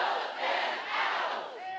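Crowd at an immigrant rights rally shouting together, a loud massed roar of many voices that swells and dips in waves over a couple of seconds.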